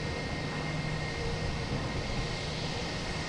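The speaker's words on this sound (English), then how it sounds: "I hear a loud prop plane. Gotta be Cape Air here." A loud propeller plane at Logan Airport, likely a Cape Air aircraft, heard as a steady broad engine drone that holds throughout.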